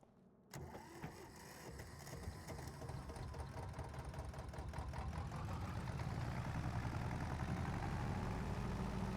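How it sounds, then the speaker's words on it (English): A tractor engine in Farming Simulator 25 kicks in abruptly and runs at a steady rhythmic chug, swelling slightly louder as it revs up, loud and close, with no talk. "We got a tractor, ladies and gentlemen."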